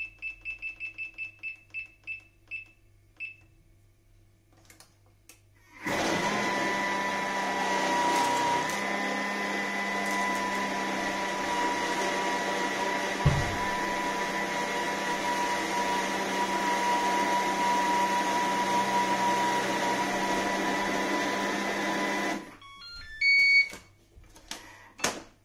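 A Thermomix kneads chocolate chip cookie dough with a steady, loud motor whir that runs for about fifteen seconds and then stops. Short electronic beeps come before and after it.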